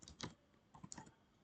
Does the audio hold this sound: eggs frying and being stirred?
no